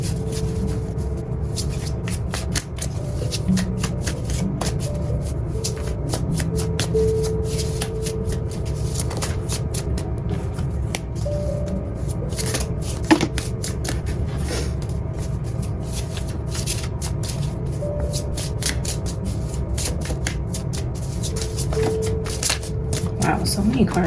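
Oracle cards shuffled in a steady, continuous riffle and slide of soft card-on-card friction, with occasional sharper flicks, under a faint background hum and some voice.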